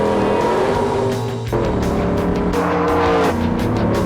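A Pontiac Grand Prix NASCAR race car roars loudly through a lap, its engine note dropping and climbing between gear changes with a hint of tire squeal.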